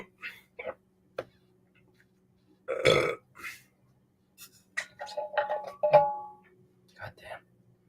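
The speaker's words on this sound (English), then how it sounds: "all this beer is giving me burps" A man burps repeatedly after drinking beer, with short bursts scattered through the clip and one long, loud, throaty belch near the middle, some of the later bursts voiced and warbling, all close to the mic.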